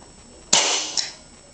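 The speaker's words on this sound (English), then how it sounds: "Now I'm going to be firing a pointed pellet" A single sharp crack from a Crosman 357 .177 CO2 pellet pistol as it fires a pointed pellet. It is loud and close, with a brief hiss and a quick decay.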